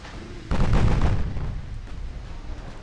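Battleship stern turrets firing in the naval video game Ultimate Admiral: Dreadnoughts, with a single heavy boom that strikes suddenly and then rumbles away into a fading tail.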